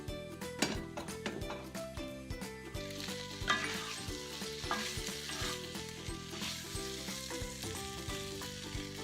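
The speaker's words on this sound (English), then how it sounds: "Now you're going to fry it a little bit, so you want the spices to stick onto the arvi" Arvi fries with spices in a pan, giving a continuous crackling sizzle with occasional clinks and stirs beneath steady background music.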